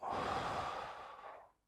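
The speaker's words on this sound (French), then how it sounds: "Une respiration." A single soft, breathy exhale like a sigh, close and fairly quiet, fading out after about a second and a half with no talking.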